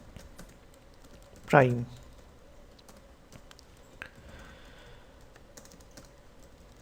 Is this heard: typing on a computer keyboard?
yes